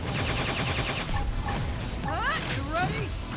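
Rapid gunfire crackles during a battle in the video game Xenoblade Chronicles X, running under voices and a dense, busy game soundtrack.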